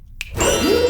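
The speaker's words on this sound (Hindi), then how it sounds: "मम्मी ये घंटियां कहाँ से बज रही है?" Bells ring in a comedy film, one bright chime followed by a sustained ringing tone with a rising tonal swell beneath it, loud and close.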